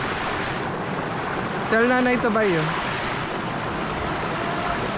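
River current rushes constantly at the Dica River, a broad, steady wash of flowing water and wind close to the microphone, while a person speaks briefly over it.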